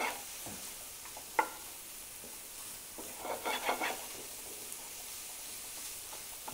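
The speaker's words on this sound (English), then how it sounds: "We're just going to fry that up a little bit and get that nice meaty flavour." Prosciutto fries in a pan with a steady close sizzle and hiss, broken by occasional stirring scrapes and clatters of a utensil against the pan.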